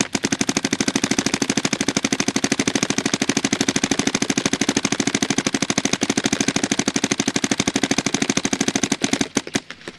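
DYE DSR+ paintball gun at about 1200 PSI firing in a long, rapid, evenly spaced burst of sharp loud pops, close up and unbroken for nearly the whole stretch before faltering at the end.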